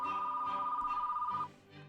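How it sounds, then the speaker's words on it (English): A telephone bell rings steadily for about a second and a half in a quiet room, then cuts off. "Excellent, a phone call."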